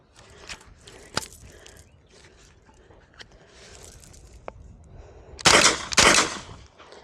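A Draco NAK9 AK pistol fires a few sharp, isolated shots outdoors, and a loud, close burst of rapid shots near the end stands out over quieter ambient noise.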